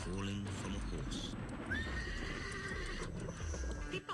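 Horse neighing and whinnying at moderate distance, a drawn-out call over clip-clopping hooves and outdoor background noise.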